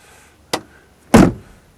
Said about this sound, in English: Door shuts readily enough, but perhaps a new bottom hinge pin wouldn't go amiss